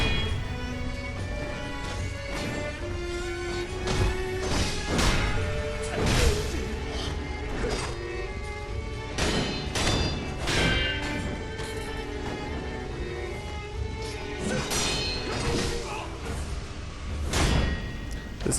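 Sword swipes and clashing blade impacts from combat in the video game Sekiro, repeated sharp hits and whooshes over a dense game soundtrack, loud and continuous with no talk.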